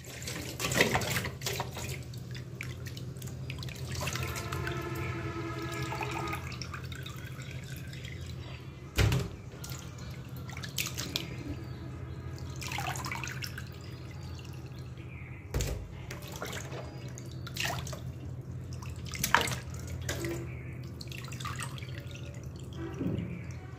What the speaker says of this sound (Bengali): তারপর একটু লবণ দিয়ে ভালোভাবে ঝাঁকড়ে ঝাঁকড়ে মাছগুলো ধুয়ে নিব